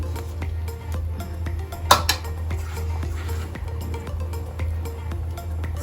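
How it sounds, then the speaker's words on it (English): A traditional Boro dish gets stirred in a metal pot, with a spoon scraping and clinking against the sides in a steady rhythm and one sharper knock partway through, over a constant low hum. "Just stir it. Stir it properly."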